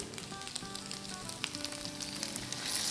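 Malai seekh kebabs sizzle and crackle in a hot pan as a cup of milk goes in, steady frying hiss with small pops that grows louder toward the end.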